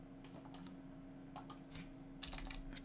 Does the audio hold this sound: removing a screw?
no